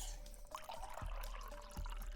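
Water in a video game trickles and drips, a soft liquid sound with small splashes and gurgles over a low steady hum, fairly quiet, with no talking.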